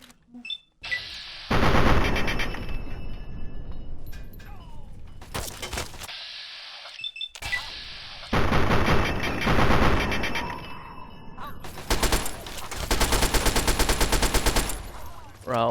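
Submachine gun fire from a 10mm SMG in the video game Fallout 3, loud rapid bursts repeated several times with short pauses, mixed with echoing impacts and battle noise.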